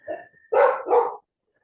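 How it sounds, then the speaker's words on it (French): A female dog barks nearby, one short soft yelp followed by two loud, close barks in quick succession, then silence. "Désolé pour la chienne qui aboie"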